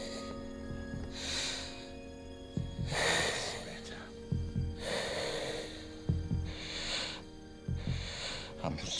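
A patient's heavy, labored breathing, with loud rhythmic inhales and exhales about every one to two seconds, close and raspy, with some snorting.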